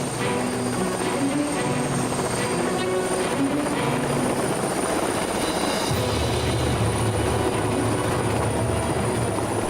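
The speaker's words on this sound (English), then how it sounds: "giving LA's leader in luxury real estate, Becal, a helicopter tour of what San Diego has to offer in the luxury real estate market from the sky" A helicopter flies a sightseeing tour over San Diego, its steady rotor and turbine roar loud and continuous throughout, with a deeper low rumble coming in partway through and no voices.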